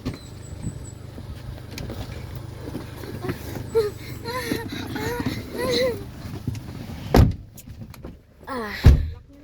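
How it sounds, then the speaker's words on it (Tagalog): A car door opens with a sharp metallic clunk in an abandoned exclusive subdivision village, followed by another loud thump, while people chat and an engine idles underneath. "Pagbuksan mo nga ako ng pinto"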